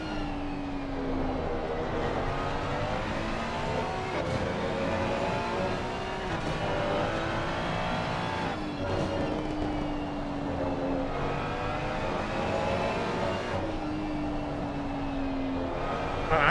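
GT3 race cars in Assetto Corsa Competizione, including a Ferrari and a Porsche, lap the Valencia circuit with steady engine drones, rising and falling revs and whining gear shifts over the whole stretch, heard without voices.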